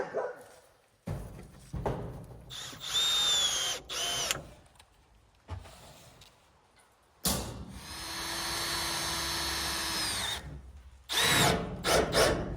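A power drill drives screws into the wood of a backyard woodshed in several separate bursts of whirring, some short and some sustained, with pauses between and a dog barking faintly now and then.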